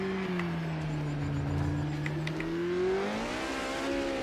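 A Porsche race car in Project Motor Racing, its engine holding a steady loud drone that rises in pitch toward the end as it revs, close and alone with no talk.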